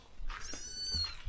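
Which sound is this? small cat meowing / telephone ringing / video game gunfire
small cat meowing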